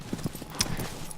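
Brief quick clip-clop of a horse's hooves galloping in the video game Shadow of the Colossus, soft rhythmic thuds at low level.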